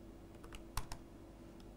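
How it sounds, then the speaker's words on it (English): Typing on a computer keyboard while composing a client meeting message, heard as a few sparse, quiet clicks with one sharper cluster of keystrokes near the middle and another at the end, with no talking. "Typing live is totally different to typing when you're not live"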